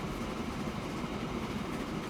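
Train in the Transport Fever 2 video game pulling into a platform, a steady low rumble of rolling wheels and carriages, soft and continuous throughout.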